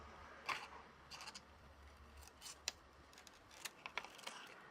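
Scissors snipping gradually through the thin cardboard corner of a Jello box, a few quiet, scattered crisp cuts over low background hum.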